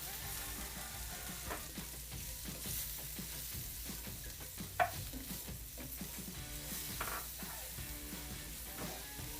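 Fajita vegetables and spices for halloumi fajitas sizzle in a hot pan as they are stirred around, a soft, steady frying hiss with light scraping and one small knock.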